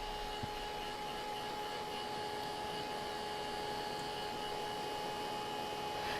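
Handheld dryer blowing on painted berries, a steady whirring hiss with a faint tonal whine, continuous and at moderate distance throughout.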